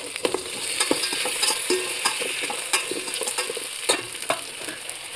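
Tomatoes added to a frying pan for chicken curry: a steady hiss of sizzling with scattered clicks and scrapes of stirring, close and moderately loud, no talking.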